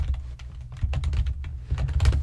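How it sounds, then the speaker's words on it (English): Rapid, uneven keystrokes on a computer keyboard, close and clear, with no voice, as notes are typed in a quiet room. "Me typing down notes about what you're saying?"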